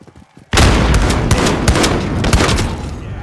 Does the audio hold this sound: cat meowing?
no